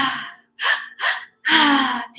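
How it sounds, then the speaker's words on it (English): Deep, forceful breaths during a group breathwork session: three or four sharp, loud airy gasps separated by short silences, close and unaccompanied by speech. "Keep breathing."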